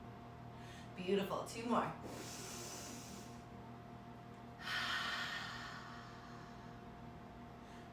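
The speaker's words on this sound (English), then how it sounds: "Deep breath in." Two deep, airy breaths during a seated yoga session, each a soft inhale-exhale hiss close to the mic, separated by a few seconds, with brief spoken words from a single voice between them.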